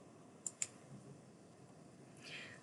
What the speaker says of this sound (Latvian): Klikšķinam.